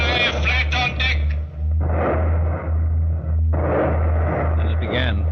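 Ship gunfire effects in an old-time radio drama about a wartime combined operation, heavy booming volleys rolling in bursts, mixed with a voice speaking over them.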